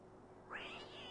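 Cat in the Mulan PlayStation video game, being sponged, gives a single short, whiny meow midway through a soft game background hum.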